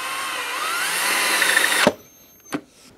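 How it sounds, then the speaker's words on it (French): A drill press fitted with a Forstner bit bores into a wooden vise jaw, whining steadily and loudly for nearly two seconds before cutting off, followed by a single sharp knock. "Ensuite, je redémonte tout et je perce la mâchoire."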